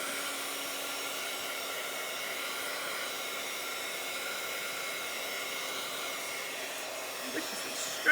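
A hair dryer blows with a steady, even whir, drying PearlEx powdered pigment on a boho craft tag, heard alone at moderate volume throughout.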